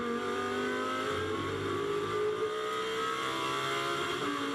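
A GT2 race car at Misano during the 2021 Fanatec GT2 European Series accelerates under power, its engine note steady and loud with a slowly rising pitch across the whole stretch.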